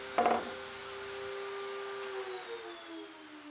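A TSM-22 pocket cutting machine cuts the last pockets in a 36-inch panel, a steady whining motor hum with a brief sharp cutting burst near the start, the tone then winding down gradually.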